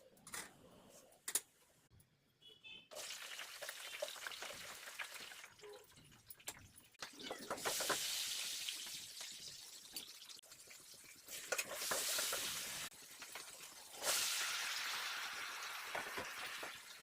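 Curry with fenugreek leaves, coriander and onion in a pan gives off bursts of loud hissing sizzle, broken by clinks and scraping stirs, swelling and easing in waves.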